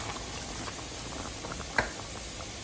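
A pot of diced potatoes with tomato purée and a little water simmers with a soft, even bubbling hiss, quiet and close, with one brief clink near the end.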